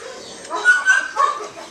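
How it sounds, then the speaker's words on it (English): An aggressive dog being evaluated lets out a few short, close yips and whimpering barks in quick succession, loud and sharp, with no talking over them. "this dog is aggressive and she will bite"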